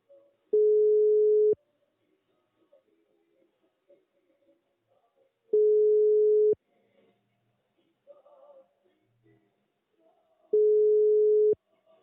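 Three identical ringback tones, each about a second long and spaced roughly five seconds apart, sound on a telephone call to a ministry that goes unanswered, with near silence between the rings.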